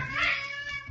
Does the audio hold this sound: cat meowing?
yes